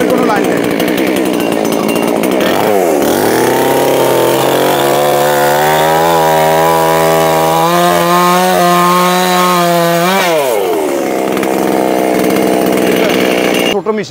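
Small, cheap petrol chainsaw cutting a tree, the engine revving to a loud strained whine as the chain bites, dropping briefly, then roaring high again while bearing down through the wood, with a voice talking over it.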